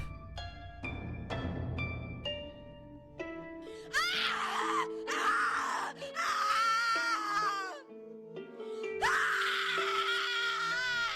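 A woman screams and wails repeatedly in The Cat Lady horror game, long anguished cries rising and falling over several seconds, loud and close, after a few opening piano-like notes.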